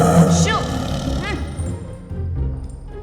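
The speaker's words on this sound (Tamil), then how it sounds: "இது உங்கள் செல்ல புலியா?" A pet tiger roars in a film scene, a loud, rough roar at the start that fades into low growling rumbles, with speech-like voices mixed through the dense, close sound.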